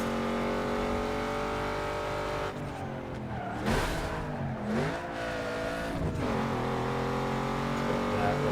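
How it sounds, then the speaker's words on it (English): A race car in a classic racing video game roars under a nitrous boost, a loud continuous engine drone with harmonics that sweep and shift, a sharp burst of surging revs midway, then steady high-speed engine noise. "Use a little bit of nitrous."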